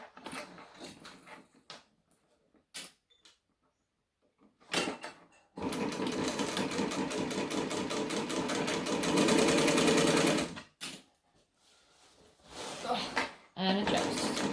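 A sewing machine stitches bag pieces together in a long, loud, even whir lasting about five seconds, with shorter bursts of stitching before and after, plus handling clicks and a speaking voice between runs.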